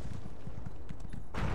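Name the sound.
horse galloping in the video game The Elder Scrolls Online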